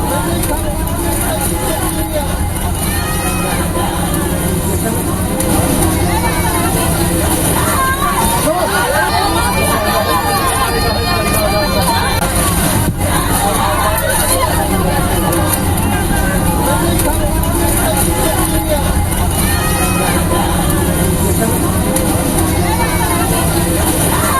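Panicked passengers cry out aboard an IndiGo Delhi–Srinagar flight struck by lightning: a dense babble of many voices with sharper raised cries rising now and then over a constant loud cabin roar.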